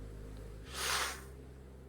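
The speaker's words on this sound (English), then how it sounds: "A gust of wind, then silence." A brief gust of wind in a horror story scene swells up and fades over about a second, a soft breathy rush against a low steady hum.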